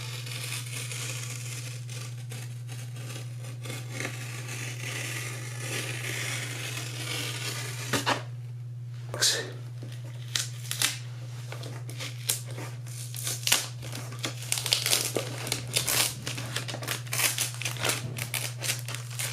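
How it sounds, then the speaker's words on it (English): A razor knife slices through car headliner fabric along a scored line, producing faint scratchy crinkling and tearing strokes that grow busier and more clustered toward the end, over a steady low electrical hum. "Now I'm going to take the razor and try and cut this line perfectly"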